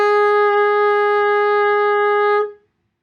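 A single sustained B flat on a tenor saxophone, held steadily and clearly for about two and a half seconds before stopping cleanly, played solo and close up with no accompaniment.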